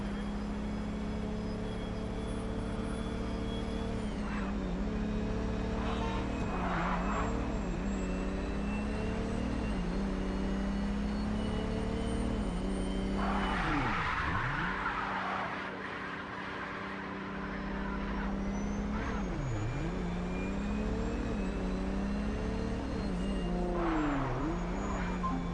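Video game car engine droning steadily at close range with shifting pitch, occasional revs and swooshing dips as the car moves, continuous for the whole stretch with no voices.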